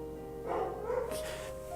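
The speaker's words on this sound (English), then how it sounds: "Shut up, you damn dog." A dog in a video game lets out a short bark or yip and then a thinner whining cry, heard over a soft sustained tone.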